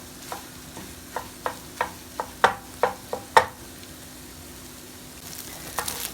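An egg frying in a pan for shrimp fried rice, broken into small pieces with a utensil, giving a run of sharp scraping taps over a steady low sizzle, close and without talk.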